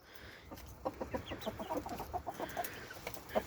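Chickens and a bearded Antwerp bantam rooster cluck softly while feeding together in a farmyard coop, a string of short, close clucks and pecking sounds repeating irregularly over a low background.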